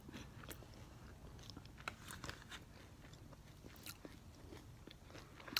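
Close, faint chewing and crunching of a tempura-fried Twinkie, heard as soft irregular bites and crackles over a low background hiss, with no talking.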